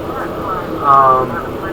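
A jet engine in a flight simulator game drones steadily in the background while a voice talks over it.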